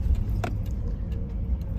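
Pickup truck rolling along a bumpy woods road with a steady low engine rumble, and sharp rattling clanks and jangles from the cab as it jolts over the uneven track.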